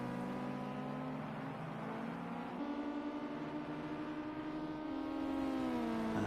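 Race car engine in an eSports racing game during qualifying, a steady droning whine that holds its pitch, shifts once and rises slightly near the end, moderately loud with no talk.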